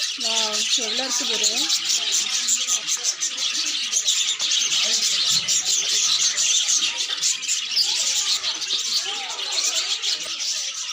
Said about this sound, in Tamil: இதில் கிளி நிறைய கிளி இருக்கு பாருங்க